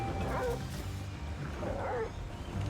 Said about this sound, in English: Oh no, it is my dog. He makes barking sounds when he starts flying and stops flying.